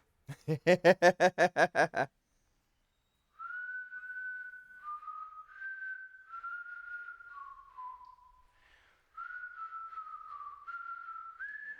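A person whistles a wandering tune of sustained notes stepping up and down, clear and close, after a burst of short rhythmic sounds at the start.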